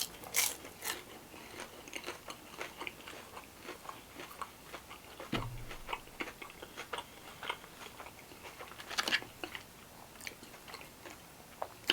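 Crunchy fried Filipino snack from Max's Filipino Restaurant bitten and chewed close to the mic, a few sharp crunches amid irregular quieter mastication, with no talking.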